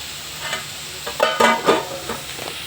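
Cumin seeds dropped into hot oil in a pan while making mint chutney, giving a few short bursts of crackling sizzle close by, strongest in the middle of the moment, with no talking.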